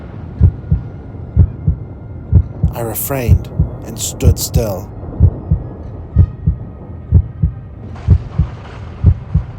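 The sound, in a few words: heartbeat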